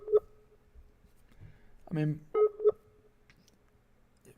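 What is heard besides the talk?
telephone dialing a call that goes unanswered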